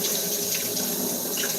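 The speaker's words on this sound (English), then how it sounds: "We're going to wash this can again." Tap water runs steadily into a sink while a can is washed, a close, constant splashing rush with no pauses.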